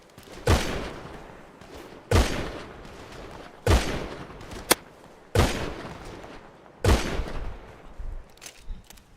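Gunfire in a GTA roleplay game session: five or six sharp, loud shots spaced roughly every second and a half, each with a short decaying tail, with no talking over them.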